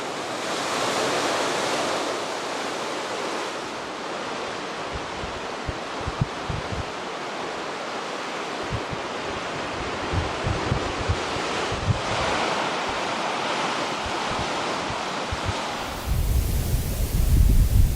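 Waves break on a coastline in a continuous roaring wash of surf, with wind buffeting the microphone and low rumbling gusts throughout.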